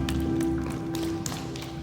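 Soft, quick knocking taps on the forearm during a qigong session, light muffled pats repeating steadily over a constant low hum, close and without talk.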